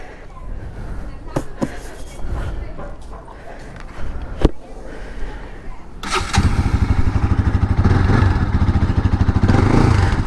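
A Bajaj Pulsar NS200 motorcycle engine fires up about two-thirds of the way in and settles into a loud, close, steady running note, following a stretch of scattered clatter and short sharp knocks.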